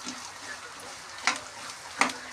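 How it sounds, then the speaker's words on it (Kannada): Chili powder and turmeric fry in oil in a pan with a soft continuous sizzle, punctuated by two brief scraping stirs of a utensil, close and fairly quiet. "ಖಾರ ಹಾಕಿದಾದ್ಮೇಲೆ ಅದನ್ನು ಸ್ವಲ್ಪ ಫ್ರೈ ಮಾಡ್ಕೊಂಡಾದ್ಮೇಲೆ"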